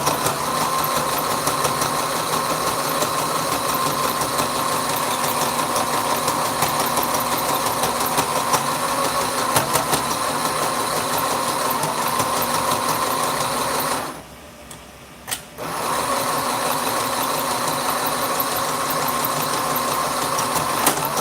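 A sewing machine stitches fabric face masks with a steady, fast mechanical whirring and rhythmic chatter, running continuously for a long stretch, pausing briefly, then resuming.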